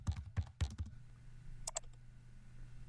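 Quiet computer keyboard typing: a few quick, soft key clicks in a short burst, then a couple of faint lighter clicks, over a low steady hum.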